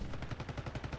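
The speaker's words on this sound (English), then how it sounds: "a little bit of gunfight now" Quiet rapid gunfire from a Call of Duty match, a steady automatic burst of evenly spaced shots running through the whole moment, with no voices.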